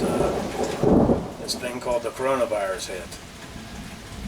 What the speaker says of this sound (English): sorry for the thunder in the background